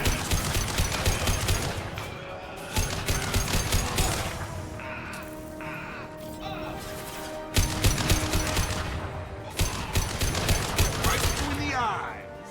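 Rapid automatic weapon fire in Mass Effect 2, delivered in dense repeated bursts with short pauses between them, loud and close, with mechanical clatter and a voice talking in places.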